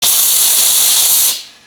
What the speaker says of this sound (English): the Dupray does have a bigger quantity of water you can put into it, and it does put out a lot of steam